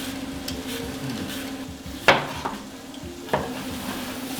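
Onions sizzling softly in a pan for a hotpot, with a spoon scraping and a few sharp clinks against the pan as they are stirred.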